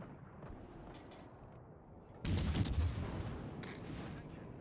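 Naval guns fire in the World of Warships Legends game, a heavy booming salvo erupting midway and rumbling on loudly after a quieter stretch of distant battle noise.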